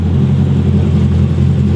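A car fitted with an upgraded exhaust and aftermarket headers revs up close and loud, giving a deep, steady engine drone that holds throughout with no talking.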